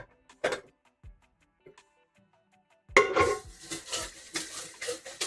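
Metal can rinsed and tipped into a small cooking pot for lasagna, with faint clinks and taps at first, then a louder stretch of splashing, clattering and swishing.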